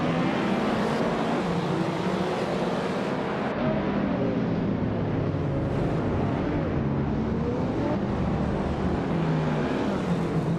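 Racing cars roar off the start line in a video game, led by a 2000 BMW Z8 at Goldenport, a steady loud engine drone with rising and falling pitch sweeps throughout.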